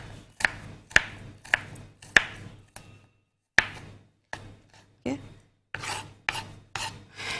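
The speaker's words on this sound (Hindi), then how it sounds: "प्याज को हम चॉप कर रहे हैं।" An onion is chopped on a cutting board with a knife, giving a dozen or so crisp, close knocks in an uneven rhythm with short pauses between strokes, with no talking.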